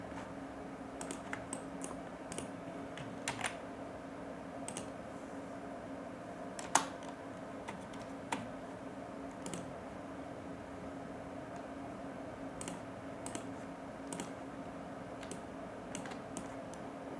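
Computer keyboard typing in short, scattered bursts of light clicks over a steady background hum, fairly quiet and without speech, as text is entered into a Hindi-language newspaper advertisement design.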